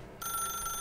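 A telephone rings in a video game, a bright electronic tone that starts abruptly and holds steady for under a second.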